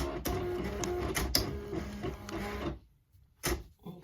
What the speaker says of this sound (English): The machine is calibrating.